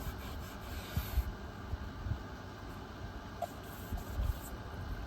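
Sanding a surface by hand, a steady, close rasping hiss with soft rhythmic scuffs as the stroke changes.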